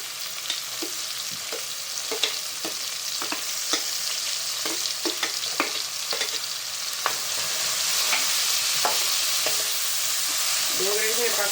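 A generous batch of onions for pav bhaji fries in a pan with a constant bright sizzle, while a spoon stirs through it, knocking and scraping against the pan in scattered taps. The frying grows slightly louder toward the end.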